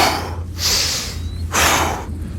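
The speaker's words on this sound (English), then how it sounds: "On the inhale, you're going through your nose." Deep breaths drawn in through the nose during a breathing exercise, two loud, close airy inhales about a second long each, separated by brief pauses.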